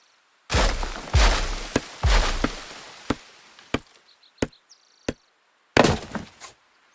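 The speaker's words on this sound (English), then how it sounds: "With the sound of the trees falling, what you can hear is how heavy the trees are." Trees being chopped with an axe and crashing down in the survival game Rising World: a series of sharp, loud chopping strikes, some heavy thudding crashes, then a few isolated knocks separated by silence.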